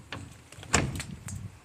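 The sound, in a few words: door being opened in an abandoned school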